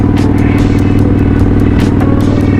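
An old Kawasaki custom chopper motorcycle pulling hard, its loud, close engine pounding out a dense, steady low rumble with rhythmic clattering pulses and wind buffeting throughout.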